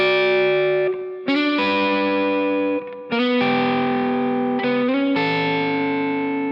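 Electric guitar run through distortion and chorus effects plays a series of sustained sixth double-stops, each chord ringing about a second with brief gaps between changes, loud and alone.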